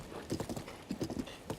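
Hooves clip-clop in quick, uneven clusters as a horse is ridden in The Legend of Zelda: Breath of the Wild, moderately close and alone without speech.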